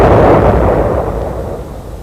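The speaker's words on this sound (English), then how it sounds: "the tremendous explosion a few seconds later as the missile hit the ground" A V1 flying bomb strikes the ground in a tremendous explosion, heard as a loud, heavy roaring blast that slowly decays into a dense rumble.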